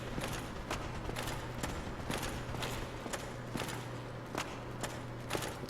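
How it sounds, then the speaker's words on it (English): Footsteps in the video game Dark Souls, a regular, evenly spaced series of sharp thuds, about two per second, over a constant background hum with no voices. "I keep thinking I'm hearing footsteps in this game"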